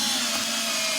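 A battery drill whines at high speed, driving 2.5-inch screws into wood while the barstool parts are held by a clamp. The tone is continuous, loud and close, and no one speaks.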